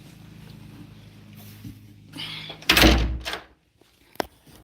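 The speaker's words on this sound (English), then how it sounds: "All right, let's get this door closed." A door is pushed shut indoors, a short burst of rattle and a solid thunk with a bright latch click, then a faint tap after a brief silence, with low hum before.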